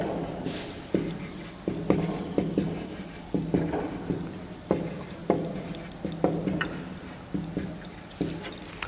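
Writing on a board, with a steady series of sharp taps and scratchy strokes at a close distance in a quiet room.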